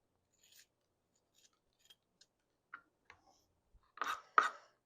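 A knife slices through halved tomatoes on a cutting board in a home kitchen: a few faint, sparse taps and scrapes, then two louder, close crunching cuts near the end, with no talking.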